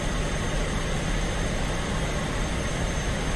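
A MiG-15 jet engine on approach to a runway in DCS gives a steady, loud, even roar with no breaks throughout.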